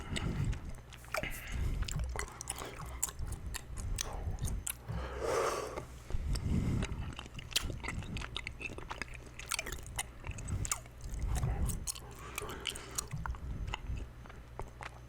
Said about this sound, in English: I'm gonna chew this for a little bit.